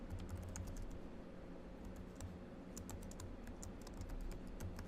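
Several students type on computer keyboards in a classroom, a dense, steady patter of clicks with a few sharper keystrokes, quiet and continuous, with no talking.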